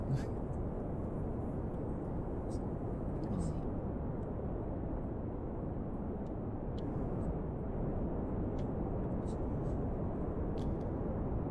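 Steady, even rocket engine roar at half throttle in Kerbal Space Program, a constant low rumble running the whole time without pause, with occasional faint clicks above it.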